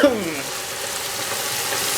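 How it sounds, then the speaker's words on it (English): Onions frying gently in oil for a vegetable and egg frittata, a steady close sizzle running evenly for the whole stretch, with a brief higher tone at the very start. "I don't want the onions to be caramelized, so just to add a little bit of flavor in the oil."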